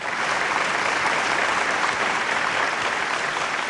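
A crowd at a Hindi humorous poetry evening honouring Bachchan breaks into loud, sustained applause, a dense and continuous roar of clapping with no speech over it.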